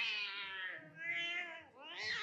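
A cat meows insistently in a continuous, wavering cry with rising and falling pitch, close and fairly loud, repeating in a few drawn-out calls with no talking.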